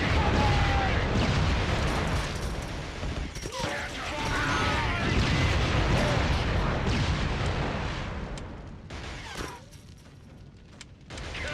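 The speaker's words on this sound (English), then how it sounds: "Oh no, bullets." Dense battle noise from a Killzone-style shooter, sustained gunfire bursts and rumbling explosions filling the mix near and loud, easing slightly toward the end.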